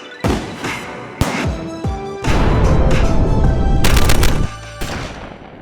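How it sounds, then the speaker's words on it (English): Several loud gunshots from American firearms, an AR-15 among them, crack out at an outdoor shooting range, with sharp single reports followed by a denser burst of rapid fire, each shot ringing out close and hard. "we're going to fire some great American firearms"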